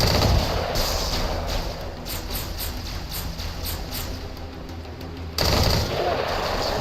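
A minigun in Halo: Combat Evolved SPV3.3 fires a long, continuous rapid burst of shots that sounds loud and dense, then cuts off abruptly near the end, with no one talking.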